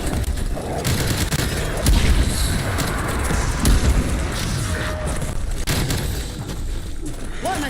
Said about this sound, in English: War machine, firing for effect.